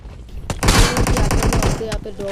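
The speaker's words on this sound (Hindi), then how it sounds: "वैसे ही वहाँ पे आ जाती है फायरिंग, मतलब शॉट्स आ जाते हैं यहाँ पे किसी को मारने के" Rapid bursts of automatic gunfire in the mobile battle-royale game PUBG Mobile, a loud dense volley of shots lasting over a second before brief trailing sounds.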